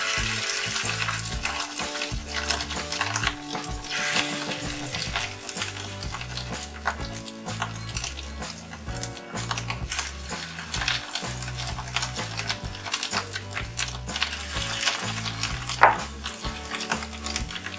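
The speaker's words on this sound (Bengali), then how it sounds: "এবার মিডিয়াম টু লো ফ্লেমে আমি বড়াগুলো ভেজে নেব।" Fish egg fritters fry in hot white oil in a kadai over a medium-to-low flame, a continuous close sizzle with scattered stirring and utensil clatter and one sharp spike near the end.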